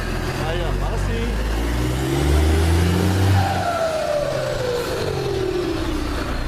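A Volvo FH truck's turbocharger whistles as a rising and falling tone over the steady engine drone, loud and close, while people talk nearby.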